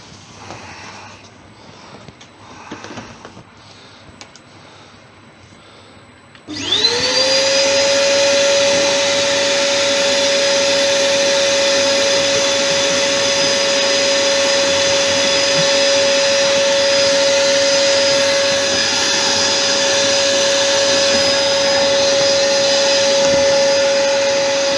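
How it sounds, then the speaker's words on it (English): A vacuum cleaner starts up loud and close, then runs with a steady high whine and roar while hoovering wood shavings out of a Thai Redwood vase on a woodturning lathe, after some quieter workshop noise. "I'm just going to give in there a quick hoover out"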